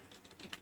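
Typing on a computer keyboard: a short, faint run of four or five quick key taps, close and with no talk.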